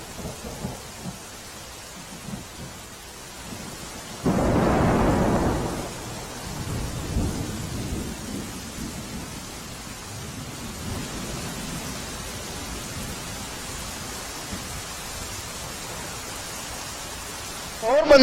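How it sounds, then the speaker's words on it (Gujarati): Heavy, unbroken monsoon rain pours over flooded Porbandar streets, a steady broadband wash that swells louder for a stretch midway, with rumbling thunder-like low swells and faint voices in the background. "પોરબંદર જિલ્લામાં છેલ્લા 24 કલાકથી અવિરત વરસાદ વરસી રહ્યો છે"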